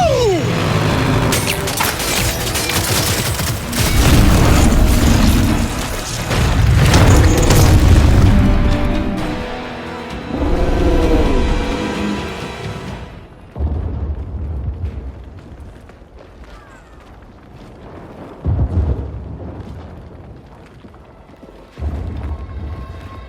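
Explosions boom in Gears of War 5, a heavy roaring blast with rumbling debris at the start, then a series of separate deep thuds and rumbles spaced apart, loud and close, with voices talking in between.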